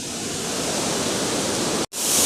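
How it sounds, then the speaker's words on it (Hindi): Muddy floodwater pours as a waterfall into a river at Joshimath, a dense, continuous close-up roar of rushing water that cuts out briefly near the end before resuming. "तो देखिए कितना मटमैला है वो, यहाँ पे वो झरने के रूप में गिर रहा है।"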